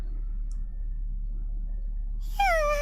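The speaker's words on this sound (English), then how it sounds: "Why is she meowing?" A character in the game Aoi Tori gives a short meow near the end, a bright rising-falling cry after a quiet stretch with faint background hum.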